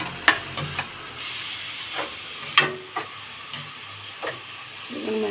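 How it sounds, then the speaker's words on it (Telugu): Onions frying in oil in a pan, a steady close sizzle broken by several sharp scraping and stirring knocks, with no talking. "ఉల్లిపాయలు కొంచెం మగ్గుతున్నాయండి"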